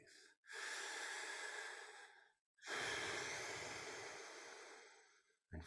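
A person breathing slowly and deeply, two long airy breaths with a short silent gap between them and a third one just beginning, close and soft with no talk.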